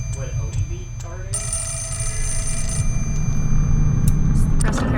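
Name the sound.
telephone ringing in video game Fatal Frame 4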